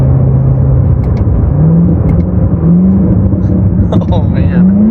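A 2019 Corvette ZR1 engine roars from inside the cabin, holding a steady low drone and then climbing in pitch through repeated pulls as it accelerates, with a voice speaking over it.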